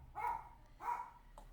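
A dog gives two loud barks a short pause apart, heard from a little distance with no talk over them.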